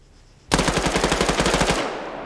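Rapid machine-gun bursts in Arma 3 during a competitive PvP tournament match, a loud sustained string of about twenty closely spaced shots lasting over a second before cutting off, with no talk over it.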